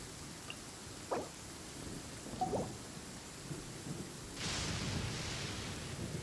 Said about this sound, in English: Thunder and lightning can be quite frightening